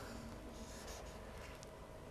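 A pencil scratches on paper as a mouth is drawn in a fine-art lesson, a soft continuous scraping with faint stroke changes, close and quiet, with no voices.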